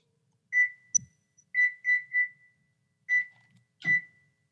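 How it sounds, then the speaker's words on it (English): A stove timer beeps as it is set: six short, clear electronic tones in an uneven sequence, with brief button clicks between them, close and distinct in a quiet room. "So I'm gonna put my timer for 4 minutes on my stove."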